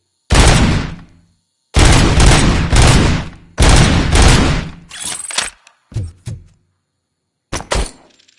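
Gunfire in the RoboCop: Rogue City game, with several loud, close bursts of heavy automatic fire separated by short silences, followed by a few shorter isolated shots and impacts.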